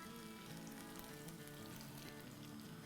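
Garam masala, roasted cumin and salt frying in a pan for a chicken pasanda, a constant close crackling sizzle that stays even throughout, quiet in level.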